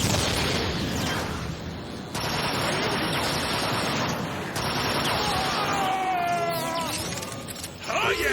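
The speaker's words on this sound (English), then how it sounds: "The transport is equipped with heavy anti-aircraft guns! You hear that, Starscream?" Heavy anti-aircraft guns pound away in Transformers: Fall of Cybertron, a loud, dense, continuous barrage of rapid gunfire and explosions with brief gaps, close and overwhelming, with whining streaks near the end.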